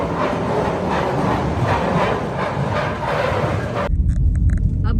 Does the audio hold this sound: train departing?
yes